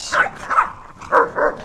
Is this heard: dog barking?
yes